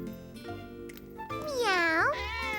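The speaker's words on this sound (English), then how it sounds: "Gilbert's a kitty cat, not a person" A pet cat named Gilbert meows in a long, rising-then-falling wail, close and clear, preceded by softer household sounds.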